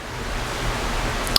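Heavy rain pours down outside as a steady, dense broadband hiss with no breaks, fairly loud and unbroken throughout, with a brief sharp click near the end.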